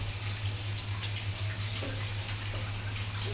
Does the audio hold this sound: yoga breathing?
no